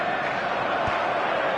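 Steady stadium crowd roar from an eFootball match, a dense continuous murmur of thousands of fans filling the stands at even loudness, with no distinct chants or voices standing out.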